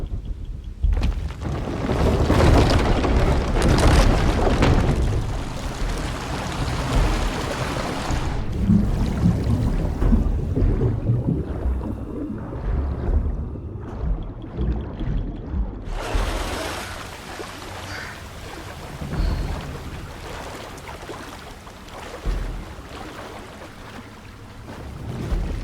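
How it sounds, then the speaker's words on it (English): In Shadow of the Tomb Raider, water rises after a lever is pulled: a deep, rumbling rush of churning water that surges loudly, eases, then swells again, with no voices. "This lever should raise the water level."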